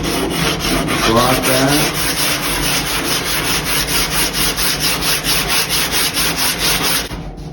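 Steady back-and-forth rasp of 60-grit sandpaper on a 3M sanding block, working a surfboard fin box repair flat; continuous close rhythmic strokes for several seconds, with a brief spoken remark near the start.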